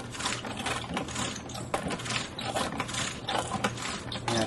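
A Barbie Flicker 'N Flash rollerblade doll's spark wheels spin and grind with a dense, continuous ratcheting clatter, fairly loud and close, with no talking.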